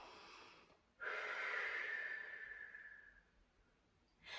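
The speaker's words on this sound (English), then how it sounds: "Taking a nice deep breath in again." A deep breath drawn in through the nose during a family yoga and mindfulness session, one long steady inhale lasting about two seconds, close and clear, starting sharply and fading gently, with a second breath just beginning at the end.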